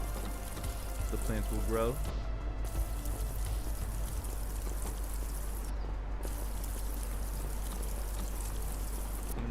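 Plants in a video game being watered, with a soft pouring, trickling spray running steadily under ongoing talk.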